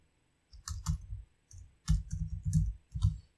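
Computer mouse clicks and keyboard taps come in short clustered bursts with brief pauses between them, close and crisp in a quiet room.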